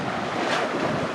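Boat motoring into ocean waves along a shoreline, a loud rushing wash of water and wind buffeting the microphone, with a surge of spray midway through the short burst.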